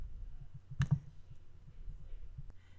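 A computer mouse clicks on download buttons, one sharp double click standing out with a fainter single click later, all close and crisp against a quiet room hum.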